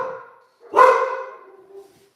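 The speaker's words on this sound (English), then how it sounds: "If you're gonna bark, get outside." A single loud dog bark, close and clear, rising sharply then trailing off into a drawn-out tail, with a faint earlier vocal sound before it.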